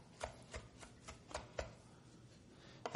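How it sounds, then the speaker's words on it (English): A knife rocks through parsley on a cutting board with a flat or rounded blade, making a series of crisp, irregularly spaced taps close up. No one speaks. "when you're chopping, just use a rocking motion with a flat blade knife or a rounded blade knife"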